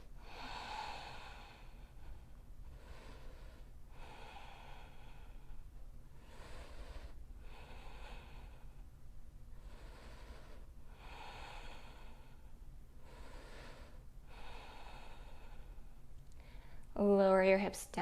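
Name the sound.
breathing during yoga posture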